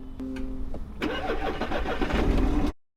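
A damaged Land Rover Defender with a flat battery, jump-started with cables, cranks with a brief whirring starter, then catches and rumbles into a smooth, close idle that rises slightly before cutting off.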